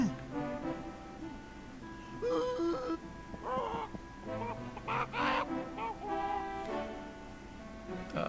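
Cartoonish chicken squawks and honking clucks from a CD-i video game, several short bursts over game music and sound effects, with a little talk mixed in.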